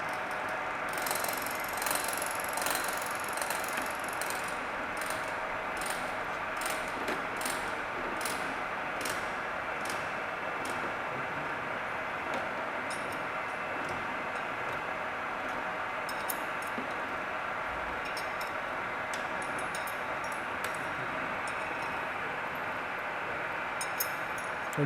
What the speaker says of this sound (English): the machine is on, and as you can see the milling cutter rotates